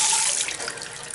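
Water gushes from a laundry sink faucet in a loud, steady hissing rush that eases slightly as it flows.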